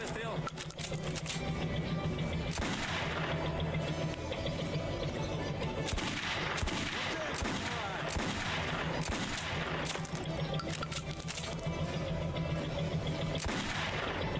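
Repeated gunshots from Metro 2033 Redux gameplay, with sharp bursts scattered over a steady loud background of game sound, some shots close together and others spaced apart.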